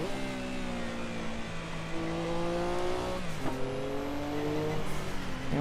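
Porsche 962C race car on the Nordschleife in the video game Assetto Corsa, its engine droning and climbing through revs with sharp gear shifts, loud and continuous with no talk.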